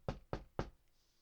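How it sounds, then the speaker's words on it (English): Three sharp, evenly spaced knocks on a door, close and clear, followed by quiet. "Naruto is woken up early by knocking at the door"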